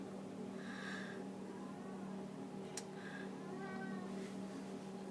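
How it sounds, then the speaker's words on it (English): A pet cat meows softly twice in the background of a room, with a faint third cry later, over a steady low electrical hum and faint ticking. "There's my cat in the background."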